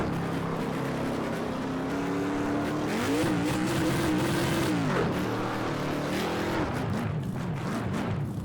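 A race car in Project CARS 2 runs on improper tires, its engine droning steadily while the tires squeal and warble repeatedly through skidding corners, fairly quiet and continuous.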